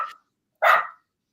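A single dog barks once, sharp and fairly close, after a faint clipped yelp; silence before and after, no talking.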